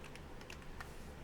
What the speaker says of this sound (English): don't mind the typing sounds you hear right now